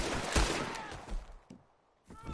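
Several gunshots ring out in a Red Dead Redemption 2 gunfight, with a heavy blast early on and later sharp cracks separated by brief lulls, set against a dense background of game noise.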